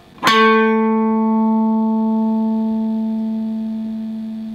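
A single plucked note A on an electric guitar with a humbucker neck pickup and glued neck rings out clearly, its bright attack settling into a steady, slowly fading tone that lasts several seconds.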